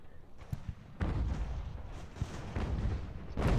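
Naval cannon fire in Ultimate General: American Revolution, with a series of deep booms and rumbling blasts from ship guns over a continuous low roar of battle.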